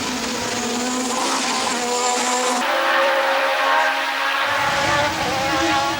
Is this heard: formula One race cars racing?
yes